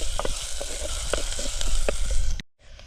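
Onions and tomatoes fry in a pan with a loud, continuous sizzle and crackle, scattered small pops throughout, ending abruptly in a brief cut before the sizzle resumes.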